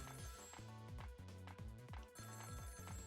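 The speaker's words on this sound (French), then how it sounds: "Ce coup de téléphone là?" A telephone rings in the video game Ghost Trick with a quick, repeated electronic bell trill in rhythmic bursts, clear and unbroken with no voices over it.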